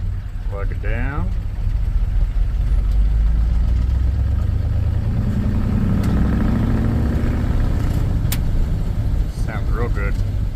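A 1967 Ford F250 Highboy pickup's engine runs close by after a carburetor replacement, a steady low rumble that swells slightly in the middle as revs rise, then settles back to an even idle.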